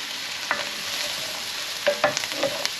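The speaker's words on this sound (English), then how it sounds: "when you're using mushrooms, you should really have it on a high heat. So get them straight in there now." Mushrooms sizzle in a hot pan over high heat for a chicken curry, a steady fry hiss broken by a few sharp crackles and spatters, close and clear with no talking.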